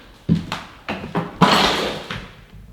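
Several loud, close thuds and bangs in an abandoned building thought to be haunted, with heavy impacts and a big slam near the middle, all without speech.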